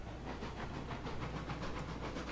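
A steam locomotive chuffs along in a railroad simulation game, a quiet, regular run of hissing exhaust beats repeating several times a second, with no talk.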